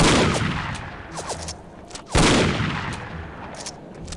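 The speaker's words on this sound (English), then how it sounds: "Gun uses explosive rounds." Explosive gun rounds fired in No One Lives Forever: two sharp, loud blasts about two seconds apart, each with a ringing decay, set against other scattered gunfire.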